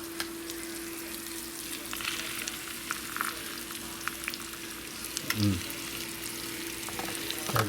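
Steak seasoned with garlic searing in a hot pan, a steady close sizzle and fry with a brief louder crackle burst near the end as the meat shifts.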